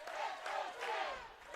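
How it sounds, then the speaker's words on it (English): High school hockey fans of Grosse Pointe South chant together to cheer their team at the MGHSHL Division 1 championship, a rhythmic crowd chant rising and falling in repeated swells, heard at a distance in an arena. "the both of these squads, the Grosse Pointe South, are chanting, trying to cheer their team on"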